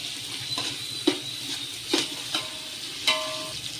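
Chopped mint leaves go into a pot of chicken biryani, which sizzles steadily while a utensil scrapes and clinks against the metal several times up close.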